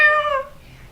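A child imitates a cat's meow with one short, close, bright mew that falls in pitch and fades quickly.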